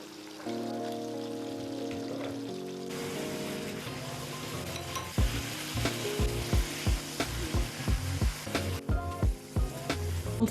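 Potato and egg fry in Golden Terra oil, a steady close sizzle that swells partway through as food is added, followed by a run of rhythmic scraping and stirring taps.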